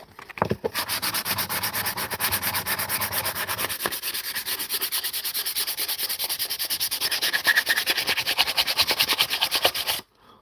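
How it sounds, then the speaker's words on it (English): Steady back-and-forth rubbing of sandpaper over a hand-carved wooden spoon, close and continuous for about ten seconds with a fast rasping rhythm and no talk. "I'm just going over it for a preliminary sand."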